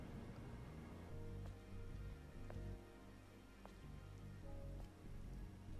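Steady rain falls in the video game Stellar Blade, a dense even hiss of drops on surfaces with a few brighter drip accents scattered throughout, continuous and fairly close with no talk over it.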